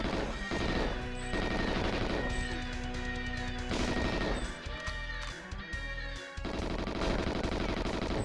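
Heavy automatic gunfire from the GoldenEye video game, loud and continuous, with dense overlapping shots, crashes and impacts that briefly thin out midway before resuming at full intensity.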